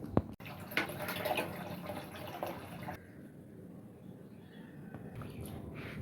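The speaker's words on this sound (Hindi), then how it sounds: "छोटी वाली बकेट उठा लेते हैं, इसमें हम पानी भर के पौधे को पानी दे देते हैं" Tap water runs into a small bucket for watering plants, a steady splashing fill that is loud at first and then drops to a quieter, thinner trickle.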